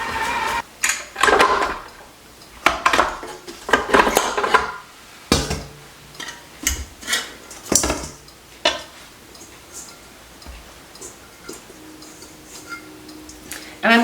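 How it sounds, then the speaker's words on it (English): Ingredients being stirred together in a mixing bowl in a home kitchen, heard as irregular close scraping and clinking of a utensil against the bowl with brief pauses between bursts. "we're gonna go ahead and mix all that in really well."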